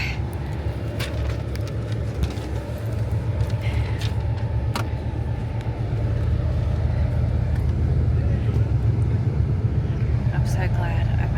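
Steady low rumble of an overnight bus driving through Myanmar, a continuous engine and road drone that swells slightly louder partway through, with faint clicks and rattles inside the cabin.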